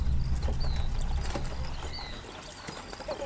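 Horses clip-clopping along a muddy highway, riders mounted with a pack horse led behind, hoofbeats steady and fairly close over a low rumbling bed, no talk.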